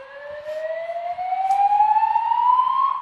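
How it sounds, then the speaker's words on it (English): A building alarm sounds as a loud steady electronic siren tone, rising slowly in pitch throughout, with faint background noise beneath it and no talk. "The reason for the alarm is now being investigated"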